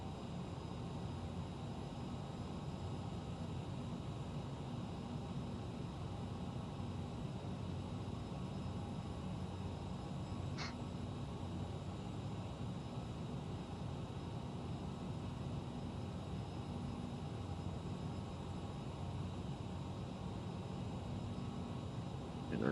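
The twin jet engines of a CRJ 900 in Microsoft Flight Simulator give a steady, broad roar as thrust is added, constant and enveloping throughout, with a faint click partway through.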